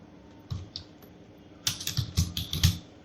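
Keys clatter on a computer keyboard as a heading is typed into a Microsoft Word document, a few isolated taps followed by a quicker run of close, crisp keystrokes.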